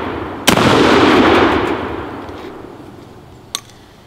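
A hard-kicking shotgun or rifle fires one loud, sharp blast nearby, a long rolling echo trailing off behind it, then a fainter crack about three seconds later, with no voices.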